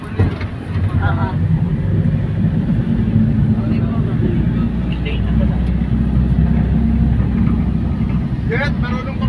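A tricycle rumbles along with a steady, loud low engine drone throughout, with people talking over it.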